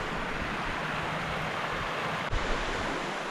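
River water rushing over rapids in a wild riverbed camp, a dense, steady roar of flowing water that holds throughout, with a brief knock partway through.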